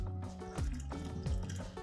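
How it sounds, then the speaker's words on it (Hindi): Small amount of water poured into all-purpose flour with a pinch of salt, mixed into a paste for chicken bread rolls: soft, close liquid trickling and squishing in quiet, uneven bursts. "थोड़ा सा हम पानी शामिल करेंगे"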